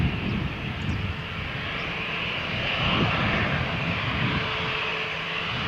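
An EasyJet jet airliner taking off at Malaga Airport on a stormy morning gives a steady, broad roar of engine noise that holds loud and continuous throughout, with no voices.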